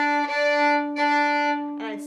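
A fiddle bows a sustained D with the open D string, an octave apart and in tune, ringing close and clear, with bow changes and a brief shift near the end.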